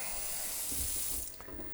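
Water runs steadily from a tap into a sink in an empty house, a close, hissing stream that eases off slightly near the end.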